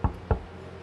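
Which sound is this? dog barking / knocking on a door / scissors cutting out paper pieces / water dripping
knocking on a door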